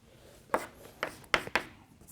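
Chalk or marker tapping and scraping on a board during a physics lecture, a few short faint strokes spaced irregularly with quiet room tone between them.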